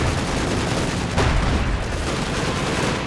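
Sustained heavy machine gun fire hammering the armor of a Panther IV tank in the Company of Heroes 2 battle, a dense continuous rattle of gunfire with a heavier burst near the middle and distant booming mixed in.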